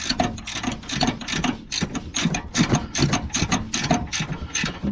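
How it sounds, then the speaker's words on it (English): A hand ratchet works a control arm bolt on a 2005 Mazda Bravo / Ford Courier V6 4-litre ute, giving a rapid series of sharp clicking strokes in an uneven rhythm, close and loud, without speech. "You've got just enough room with the ratchet to get this out."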